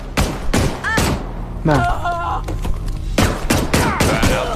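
Gunfire from a video game: several loud, sharp bursts in quick succession, with someone talking over and between the shots.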